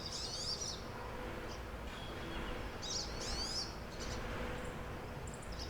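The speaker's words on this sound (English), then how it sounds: "Birds are chirping" Several birds chirp and trill outdoors on a golf course, bright bursts of song coming in short clusters near the start, around three seconds and later, over a steady background hiss.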